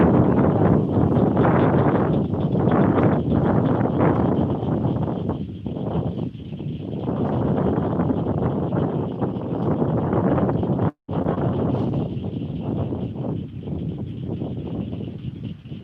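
Strong wind buffets a microphone outdoors after rain, a loud, continuous low roar that surges and dips for the whole stretch, broken by one brief dropout near the end.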